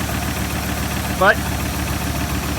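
A Ford Triton 2-valve engine idles steadily after a spark plug repair, a low rumbling drone with a brief spoken word cutting in near the middle.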